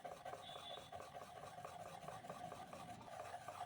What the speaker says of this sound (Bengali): ধুয়ে আরও একটু ফেটিয়ে নিলাম